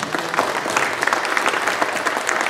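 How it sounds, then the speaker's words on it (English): Steady applause from a live audience for the performers at a music road show, dense clapping at close range and fairly loud throughout, with no talking over it. "Let's have a hand for these guys."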